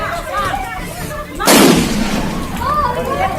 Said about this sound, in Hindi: इसके बाद हमलावरों ने एक के बाद एक कई बम फेंके।